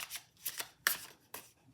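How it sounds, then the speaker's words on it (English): Tarot cards shuffled by hand, several loud, sticky riffling bursts in quick succession with brief pauses between, close and crisp with no talking. "Okay, interesting shuffle there. Kind of loud, sticky."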